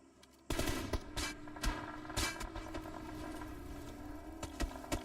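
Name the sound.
gunfire in a video game scrimmage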